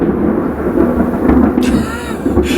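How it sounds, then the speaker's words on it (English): Thunder rolls loudly and continuously during a lightning storm, a deep rumble that swells and fades across the whole moment with no speech over it. "we're in the middle of a lightning storm. Lightning and thunder."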